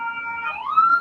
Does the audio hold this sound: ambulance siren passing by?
yes